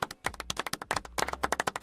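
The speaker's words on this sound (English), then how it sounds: "This deserves a freaking clap" Quick, sharp hand claps in a fast, uneven burst, close and fairly loud, with no one speaking.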